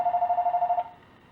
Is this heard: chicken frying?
no